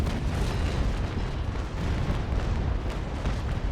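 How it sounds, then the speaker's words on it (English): A broadside from a warship's cannons in Naval Action, fired at point-blank range with gun ports lowered: a long, loud rolling rumble of overlapping booms and blasts with no voice over it. "lowering my gun ports and fire"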